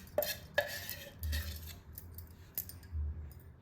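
Poha being mixed by hand with a soaked semolina and yogurt mixture in a metal bowl: soft squelching and dull thumps, with a few sharp clinks against the bowl.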